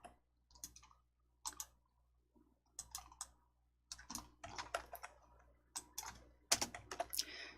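Mouse clicks and keyboard taps in a Hangul word processor on a computer, arriving as sharp, close, irregular ticks in small bursts, with no talk over them.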